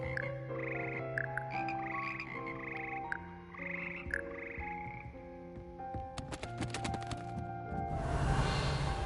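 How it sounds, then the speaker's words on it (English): A frog choir in Hogwarts Legacy croaks in rhythmic, pitched bursts, layered over sustained musical tones, with clattering strikes toward the end. "Frog choir."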